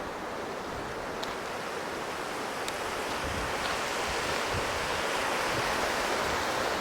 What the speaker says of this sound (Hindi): नीचे जो नदी बह रही है इसका नाम है स्पीति रिवर